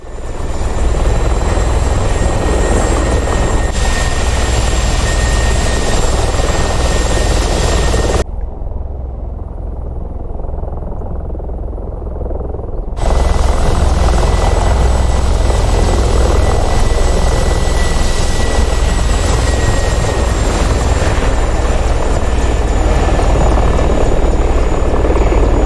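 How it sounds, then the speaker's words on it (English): Steady, loud rotor and engine drone from a Mi-24 Hind helicopter in the DCS flight simulator, continuous and close, cutting to a quieter muffled passage midway before resuming at full strength. "Further sound improvement, including rotor sound and max speed and distance related sounds."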